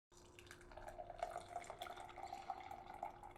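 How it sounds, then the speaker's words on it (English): Nitrogen-infused beer pours from a can into a cup with a soft, steady liquid trickle and faint splashing, quiet and close, with no talking. "Let's see if I could get some of that beautiful pour action here."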